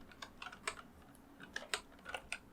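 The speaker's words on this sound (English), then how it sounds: "So now I'm going to press D on my keyboard" Computer keyboard keys pressed during Blender 3D work, a string of about a dozen light, quiet clicks in uneven quick bursts, close and alone.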